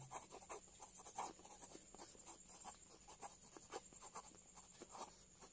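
Pen or pencil writing on paper while working a decimal arithmetic problem, a continuous faint scratching with quick rhythmic strokes close by.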